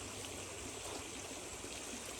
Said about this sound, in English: Just dunk that in the creek.